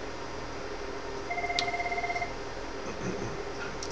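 A phone rings with an incoming call, a single short electronic trill of rapid pulsing tones over a steady background hum, clear but moderate in level.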